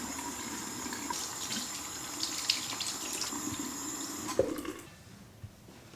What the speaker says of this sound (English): wash my hair in the sink